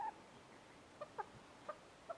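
A pet chicken, kept as a therapy hen, gives soft, faint clucks, a few short spaced chirps against a quiet background.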